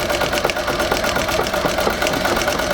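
A Singer 201-3 sewing machine mounted in a treadle runs slowly, its needle thumping in an even, steady rhythm with a close, continuous mechanical clatter.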